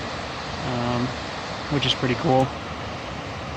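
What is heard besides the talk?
small cascading waterfall in forest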